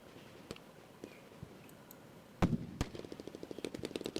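Gunfire from a wounded soldier in the tactical wargame Lock 'n Load Tactical, set in Australia's Vietnam War battle at Chin Dhuc: a few scattered sharp cracks, then a sudden loud shot followed by a rapid string of close, snappy reports.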